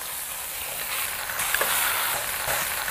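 Pork browning on a cookie sheet gives off a steady, moderately quiet hiss and sizzle with a few faint pops, continuous and close without talking.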